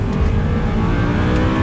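An Audi R8 V8 with a manual gearbox, Quattro all-wheel drive and 420 horsepower accelerates flat out in second gear, its engine roaring loud and steady and rising in pitch throughout.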